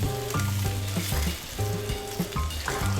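Rainbow trout frying in butter in a pan, with a steady, loud sizzle that stays constant throughout.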